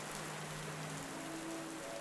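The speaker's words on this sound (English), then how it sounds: "the room remained empty and eerily quiet, save for the patter of rain against the window" Steady rain patters against a window, an even, continuous wash of soft drops at low volume with no voices.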